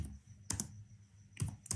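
A few quick clusters of key presses on a computer keyboard as a prompt is typed, soft close clicks separated by short quiet gaps.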